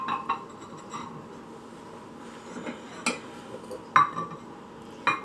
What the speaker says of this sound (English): Plates and bowls that I thought would go perfect with this